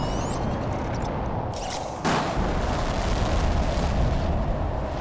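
Rocket launch in a planet-terraforming video game: a seed spreader rocket lifting off with a sudden loud whooshing burst about two seconds in, rising out of steady rumbling noise that continues underneath.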